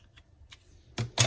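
Paper being cut with a few short crisp snips while assembling a handmade mini album, two louder cuts near the end after faint light rustling.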